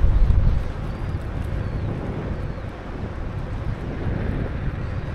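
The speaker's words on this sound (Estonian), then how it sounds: "И так ветер вроде все время напротив." Headwind buffeting the rider of a Joyor S8E electric scooter at about 22 km/h, a loud steady roar of wind rumble on the microphone throughout, with no voices.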